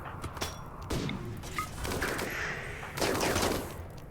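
Bursts of gunfire in the RimWorld video game, several volleys of shots in quick clusters at moderate loudness, with no talking.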